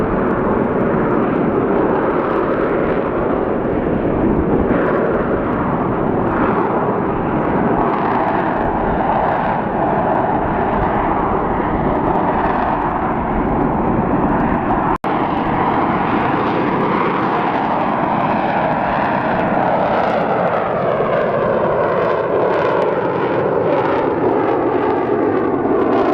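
Loud military jet roaring continuously overhead at an Arizona air show, its engine pitch shifting and sweeping downward as it maneuvers past, with no talking.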